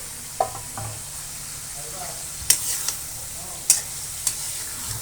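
Sea fish frying in a pan with tomato and spices, a steady low sizzle under occasional scraping stirs and sharp clinks of a utensil against the pan.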